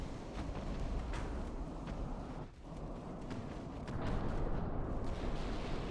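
Naval guns fire high-explosive shells in the Ultimate Admiral Dreadnoughts naval warfare game, producing deep rumbling booms over a continuous low roar of battle, fairly quiet overall.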